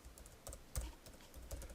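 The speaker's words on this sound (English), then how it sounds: "type it into the cell, push Enter on the keyboard" Keys tapped on a computer keyboard in short, soft clusters, with a heavier keystroke near the middle of the run; close by and quiet, with no voices.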